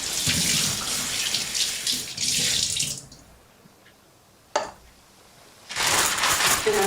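Water splashes into a pan of frozen mixed berries on a stovetop set to medium heat, in two loud bursts of pouring with a quiet pause and a small clink between them.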